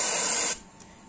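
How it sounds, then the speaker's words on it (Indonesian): Carpet cleaner spray blasted from an aerosol can onto a motorcycle fork before a leaking fork seal is replaced, a loud close hiss for about half a second that cuts off sharply, followed by a brief faint puff. "Kita semprot semuanya."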